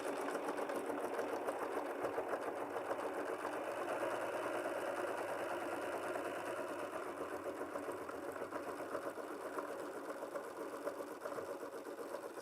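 An embroidery machine runs its placement stitch, outlining an eye mask, with a steady, continuous whirring hum and fast rapid needle chatter throughout, close and even with no talking.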